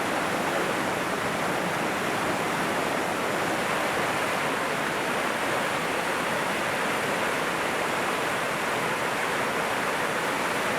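Broad, steady rushing roar of the Musi river's fast-flowing current, dense and unbroken like heavy white water, loud and close, with no voices over it.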